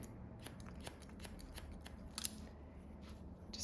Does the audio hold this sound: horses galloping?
no